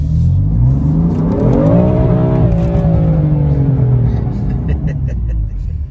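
A car accelerates hard under a heavy right foot. The engine note climbs in a rising whine over a deep rumble, then levels off and fades slightly, loud and close, with voices mixed in.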